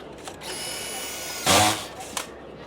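A Simpson Strong-Tie power screw gun drives a long screw, whining with a high motor tone, then a loud, brief burst of grinding as the screw seats, followed by a short click.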